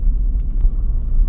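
A vehicle cruises along rural back roads in a steady, continuous low rumble of engine and tire noise, close and fairly loud throughout with no talking.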